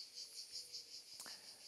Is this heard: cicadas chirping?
yes